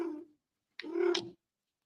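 A pet cat named Rocket Kitty gives two short, close vocal calls, a brief one and then a longer, slightly rising one, with silence between them.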